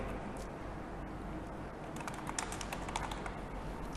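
Fingers tap out a folder name on a computer keyboard, a short burst of faint, quick key clicks over low background hum.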